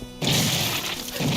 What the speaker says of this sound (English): I just took a rocket right to the chest